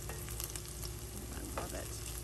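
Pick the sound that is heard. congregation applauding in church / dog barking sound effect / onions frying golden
onions frying golden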